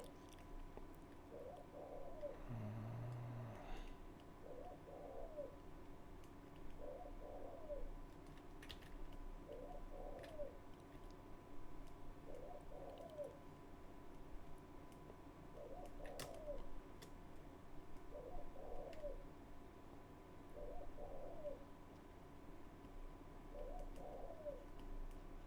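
A bird, probably a dove or pigeon, coos in a regular repeating phrase every couple of seconds over a constant background hum, faint and steady throughout, with no voices.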